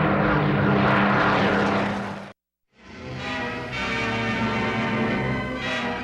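A Spitfire fighter plane's propeller engine roars loud and close in a sustained throbbing drone, cuts out abruptly for a moment, then returns just as strong and steady.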